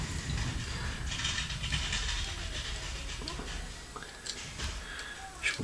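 A Toynami 1/100 Macross VF-1J figure part is worked into place with a series of small plastic ratcheting clicks and creaks, close and irregular, ending in a firmer click as it locks.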